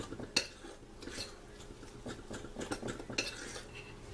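Corn muffin batter mixed in a bowl, with a spoon clinking and scraping against the sides in uneven strokes, close and fairly quiet, no talking.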